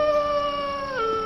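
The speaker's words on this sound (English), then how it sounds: "whatever it is out there that's making the strange howling sounds" A strange, eerie howl rises and bends in pitch, a sustained wavering tone heard alone with nothing else around it.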